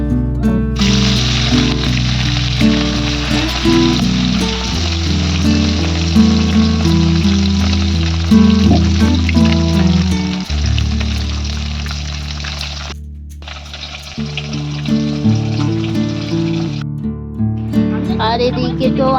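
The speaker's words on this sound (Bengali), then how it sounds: "এটা হলো জ্যান্ত রুই। তো এবার এটা ভাজা হবে" Live rohu fish pieces rubbed with salt and turmeric fry in hot oil, producing a loud, continuous crackling sizzle that shifts in intensity, with kitchen clatter mixed in.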